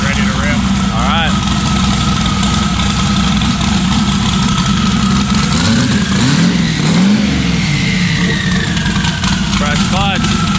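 A 1,500-horsepower car engine runs on a dyno, a loud steady roar with rising and falling revs that fills the whole stretch, while people talk over it.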